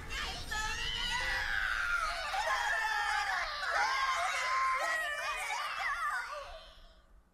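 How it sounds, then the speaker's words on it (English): Screams of burning victims aboard downed vessels in the Drakengard 3 video game: several overlapping high-pitched shrieks and wails that hold loud and steady for several seconds, then fade away at the end. "The screams of burning victims rang out from the downed vessels."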